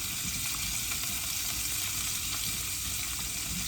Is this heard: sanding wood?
no